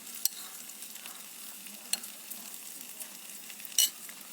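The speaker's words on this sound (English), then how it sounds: "Now we're going to add our spinach." Spinach sautés in a pan with a soft, continuous sizzle, punctuated by a few sharp clicks and scrapes of stirring, fairly quiet and close with no talking.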